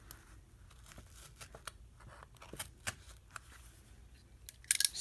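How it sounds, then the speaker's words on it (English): Paper being cut by hand with scissors for a lap book, giving a series of quiet, irregular snips and crisp rustles close by, with a sharper crinkle near the end. "Just put a hole in the center, cut out to the edges, and then cut around"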